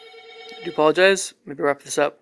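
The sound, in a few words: telephone ringing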